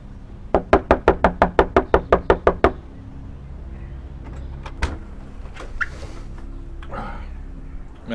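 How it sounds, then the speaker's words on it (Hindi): Knocking on a door: a rapid, loud series of about a dozen sharp raps in quick succession, then quieter room noise with a few faint bumps and movements. "खटखटाओ मत।"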